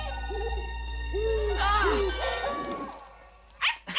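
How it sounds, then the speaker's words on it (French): An owl's hoots ring out in a few rounded calls within an animated Tintin series, set against a low steady hum and a scene in a night forest, followed by a brief voice. "Un hibou, il m'a effrayé."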